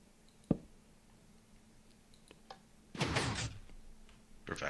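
A Minecraft 3x3 hidden piston door opens in the video game: a soft click, then a short burst of mechanical piston hissing and thudding, followed by another brief push at the end. It is fairly quiet and there is no talk.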